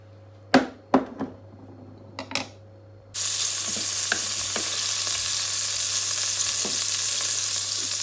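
A piece of meat drops into hot oil and starts frying: a few sharp clatters and stirring knocks come first, then a loud, steady sizzle holds to the end with occasional pops.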